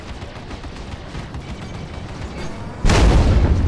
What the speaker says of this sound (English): I managed to remove one of Little King's wings with my laser repeaters, and the missile from me finishes them off.